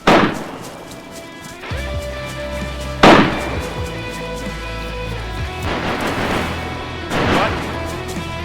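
A big gun firing in the video game DayZ: several loud, sharp blasts spaced a few seconds apart, each with a ringing, decaying tail over steady in-game tones and background noise.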